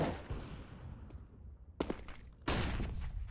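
Gunfire in a Counter-Strike match: a few sharp shots crack out, including one at the end, over quieter in-game ambience.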